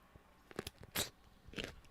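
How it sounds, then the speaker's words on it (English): A pickle with chili and garlic bitten into, a few close, crisp crunches, the loudest snap in the middle, followed by quieter chewing. "I'm gonna have a bite of a pickle."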